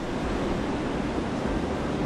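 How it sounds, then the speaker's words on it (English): Ocean waves breaking at a reef, a loud, dense, continuous roar of surf with wind buffeting the microphone, close and steady with no voices. "This is pretty close to the waves that we would surf, actually."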